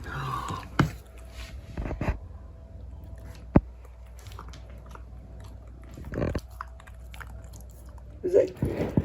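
Coco the dog chews homemade three-ingredient dog food, with soft, irregular wet bites and crunches spread across the clip, close and fairly quiet, plus a few sharper clicks.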